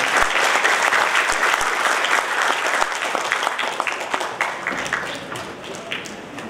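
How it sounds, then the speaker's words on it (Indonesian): An audience at a graduation ceremony for male and female students at Pondok Pesantren DDI Galesong Baru in Makassar claps steadily and densely. The applause thins slightly toward the end. "Boleh kita berikan aplaus yang meriah untuk beliau."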